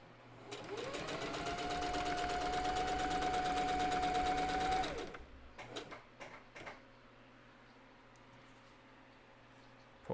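A sewing machine stitches pants in one steady, close run of rapid needle clatter lasting several seconds, then stops, followed by scattered handling clicks and quiet room hum.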